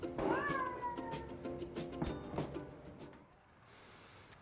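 Cats meowing at a cat hotel, a drawn-out rising then falling meow up close followed by softer mews and shuffling in a quiet room.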